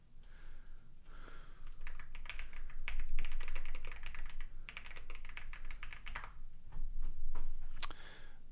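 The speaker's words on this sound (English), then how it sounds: "So let's type that in." Fingers typing on a computer keyboard in quick bursts of clicking keystrokes, fairly close and clear, with short pauses between runs and no one speaking.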